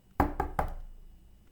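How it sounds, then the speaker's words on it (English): Three evenly spaced knocks on a wooden door, close and distinct, each ringing out briefly before fading into a quiet room. "So Tata went walking to Vadyar's house and knocked on his door."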